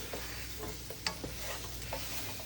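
Flour gravy for a beefless stew sautés in a pan, a soft continuous sizzle broken by occasional light scrapes and taps of a stirring utensil, close and fairly quiet, with no speech.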